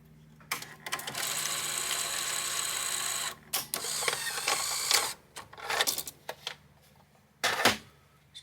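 A Sony SL-HF1000 Super Hi-Band Betamax VCR mechanism whirs and clicks as it shuts down, with a sustained motor hum followed by a series of separate mechanical clunks and ratcheting clicks, close and fairly quiet.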